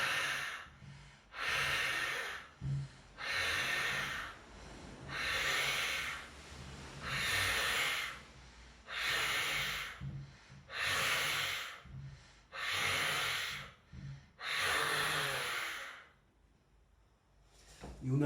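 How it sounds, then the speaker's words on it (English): Heavy open-mouthed breathing during a bioenergetics belly-thorax stretch: about ten long, loud, breathy exhalations in a steady rhythm, close and alone, ending in a brief pause and a final sharp intake. "I'm keeping my mouth wide open and I'm stretching and breathing through the mouth"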